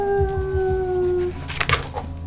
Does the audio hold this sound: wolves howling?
yes